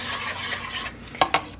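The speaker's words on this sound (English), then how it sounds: "We're going to stir it up good." Strawberry jam being brought to a boil with sugar is stirred in a pot, a close, steady scraping swirl that ends in two sharp knocks of the spoon against the rim.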